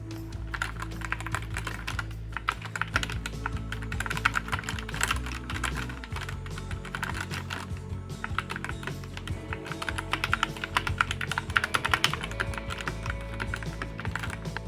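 Continuous typing on a Skyloong SK61 sixty-percent keyboard fitted with Gateron Yellow optical switches, a rapid, even stream of close, crisp keystrokes with occasional louder clacks, heard alone without talking.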